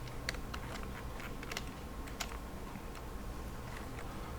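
Computer keyboard keys tap in quick, irregular succession, crisp close clicks over a steady low hum, as keys are pressed to select all and delete during a SketchUp drawing lesson.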